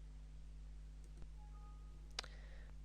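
A few quiet, isolated mouse clicks close an email window on a computer, soft ticks standing alone over a steady low hum in an otherwise quiet room.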